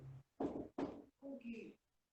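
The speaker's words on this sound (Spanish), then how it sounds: "Un ratito porque están tocando la puerta." Knocking on a door comes through faint and distant, a few soft raps in a quiet room, with brief speech around them.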